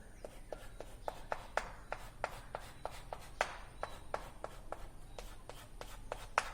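A pen or chalk taps and scratches in a steady series of short strokes, writing the denominator of a fraction, faint and close in a quiet classroom setting.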